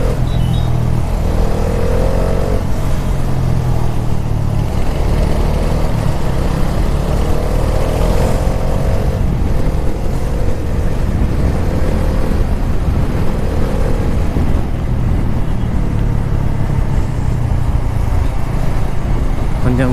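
A Bajaj Dominar 400 motorcycle ridden hard on the road, its engine droning loudly and steadily with revving swells and rushing wind throughout, while a voice talks over it.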